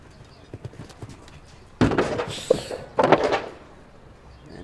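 A horse's hooves strike the ground during a show jumping round at the 2023 Toyota Shongweni Festival. Two heavy bursts of thudding steps stand out against a quiet outdoor background with faint distant voices.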